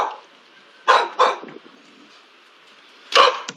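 A dog at a house door gives three sharp barks, two close together then one more after a pause, loud and near with quiet between.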